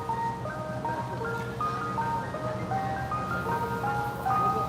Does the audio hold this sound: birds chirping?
no